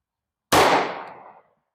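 .44 Special Gold Dot round fired from a Smith & Wesson revolver, a Model 69 2.5-inch or 629 6-inch, heard as one loud, sharp report with a rolling decay lasting about a second, with no talk.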